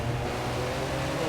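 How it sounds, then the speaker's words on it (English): Nissan race car engine in Project CARS 2 racing at Bathurst, a steady loud engine drone with downshifting and engine braking, no talk over it. "I am mansell shifting a little bit, and by mansell shifting I mean using a little bit of engine braking there"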